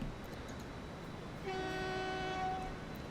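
A train in the video game Transport Fever rumbles along a European line, then sounds a clear, sustained horn blast of about a second over the steady running noise.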